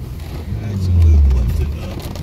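A BMW E36 engine revs up during skids, a loud low drone that swells and peaks in the middle before easing off, with voices talking alongside.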